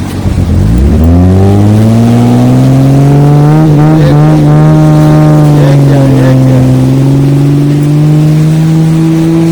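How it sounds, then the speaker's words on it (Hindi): A car engine straining and revving loud and close as the vehicle pulls off the sand at Azaiba Beach in Muscat, the pitch climbing then holding at a steady high drone. "ये देखिएगा बच्चा गाड़ी कैसे निकालता है यहाँ से"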